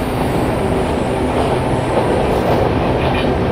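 A WAG 7 locomotive in an Indian train simulator game rolls on under braking, with a loud, steady rumble of wheels and rail noise and faint squealing that carries through the whole stretch with no voice over it.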